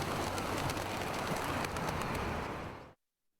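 Pigeons coo over a dense, steady layer of outdoor noise that cuts off abruptly into silence near the end.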